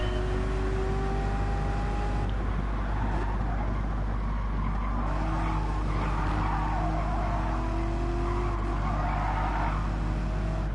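A car in Gran Turismo 7 slides around a track during a licence test, its engine droning loudly under long, wavering tire squeals that rise and fall as it skids, with no talk.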